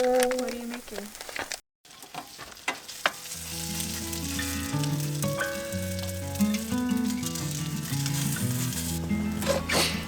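Trader Joe's pot stickers sizzle and crackle steadily in a hot pan, close and loud, while a voice talks over the frying and a brief dropout interrupts the sound early on.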